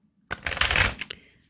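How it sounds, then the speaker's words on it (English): A tarot deck is riffled in one quick burst of crisp, fluttering card snaps up close, easing off into a soft rustle. "One more shuffle, please."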